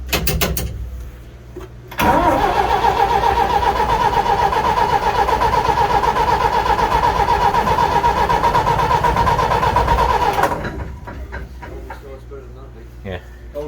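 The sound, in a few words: Gardner engine of a Scammell starting and running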